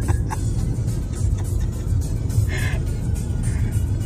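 A Mitsubishi Outlander drives along, its low engine and road rumble steady and close from inside the cabin, with no speech.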